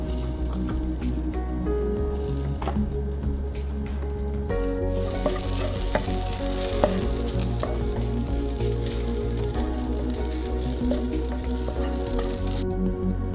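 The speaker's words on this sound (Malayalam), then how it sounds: "ഇനി തേങ്ങയൊന്ന് ഇതുപോലെ മൂപ്പിച്ചെടുക്കണം" Grated coconut roasts in a pan for Kerala-style vendakka theeyal, a continuous close sizzle with soft stirring scrapes and squishy patter throughout.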